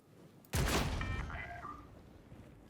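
A bolter fires in Warhammer 40,000: Darktide: one loud, close blast with a heavy punch, followed by a ringing, metallic tail that fades over about two seconds.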